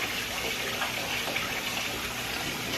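Rice rinsed by hand in a bowl of water, stirred to wash the starch off, giving a steady close swishing and running-water wash with no talking.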